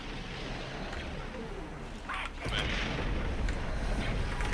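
Ship cannons firing in a video game space battle, a steady low rumble that breaks into a louder, heavier barrage of booming shots partway through, continuing as a dense roar.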